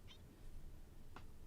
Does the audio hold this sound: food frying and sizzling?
no